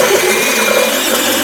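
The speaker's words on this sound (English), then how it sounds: "I did get that stripe cleaned pretty well off with the eraser wheel." An eraser wheel on a power tool grinding a decal stripe off the body of a Jeep CJ-7, a steady, loud, high-pitched whirring hum held continuously without pause.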